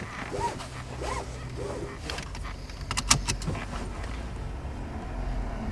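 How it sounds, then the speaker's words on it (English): Inside a car, a seatbelt is pulled out and clicked into its buckle: a few quick rustling strap pulls, then a sharp metallic latch, heard close against a low engine hum. "just put my seatbelt on as well"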